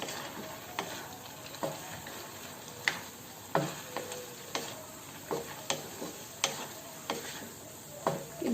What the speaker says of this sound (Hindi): अब एमे हम रख देवे ये भुजला हुआ सोयाबीन